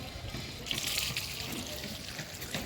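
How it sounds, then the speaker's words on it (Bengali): Water trickles and splashes steadily onto soil at the base of garden plants, a continuous soft pouring hiss lasting throughout, moderately close with no talk. "এই সবগুলি গাছে জল দেব"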